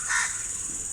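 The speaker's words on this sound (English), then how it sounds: "The birds are waking up" Crows cawing at dawn among coconut trees, a loud harsh call near the start over a steady high insect drone, with birdsong in the background.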